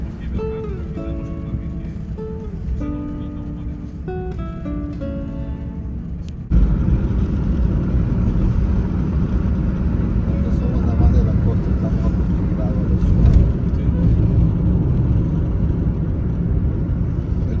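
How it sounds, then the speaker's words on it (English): A car climbing a mountain road in Peru, its engine and road rumble steady and prominent; the first stretch carries music with melodic notes and a voice over the drone before the vehicle noise grows louder. "This is us driving up the mountain going to church."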